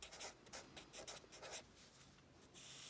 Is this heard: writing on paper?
yes